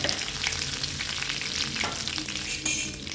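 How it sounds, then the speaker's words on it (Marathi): Curry leaves hit hot oil with mustard seeds and cumin, crackling and sizzling busily up close, with a sharp burst of spitting near the end as the frying intensifies. "जिरं फुलून झाल्याच्या नंतर कढीपत्त्याची पानं टाकून घ्यायच्यात."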